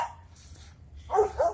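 Dogs bark in two short bursts, one early and a louder pair of yips near the end, close by and alone without talk.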